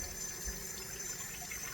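Hot tap water runs steadily into a bowl to warm it before mixing oat bread dough, a continuous, fairly faint rushing stream with no talk.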